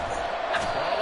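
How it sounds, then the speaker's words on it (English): Stadium crowd noise in the Madden 24 football video game, a dense, steady roar of cheering that surges slightly at third and long, with commentary voices mixed in underneath. "This crowd turning up the decibel level"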